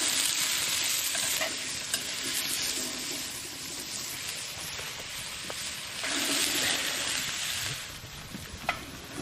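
Food softening in two hot camp ovens over a bush campfire in the Australian outback, a steady loud sizzle and frying hiss throughout, with occasional stirring scrapes and small pops.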